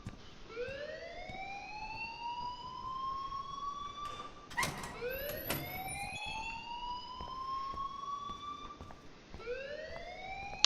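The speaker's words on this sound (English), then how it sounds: "please turn off that alarm since that's your job" A fire alarm in the Life is Strange video game, a loud rising electronic whoop that sweeps upward and repeats about every four to five seconds, with a brief burst of clatter in the middle.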